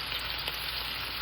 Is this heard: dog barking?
no